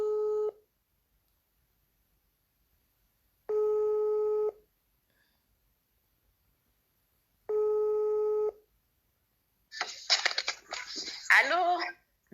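A telephone line rings out in three evenly spaced tone bursts, each about a second long with silence in between, and then a connection crackles and clicks into noisy static.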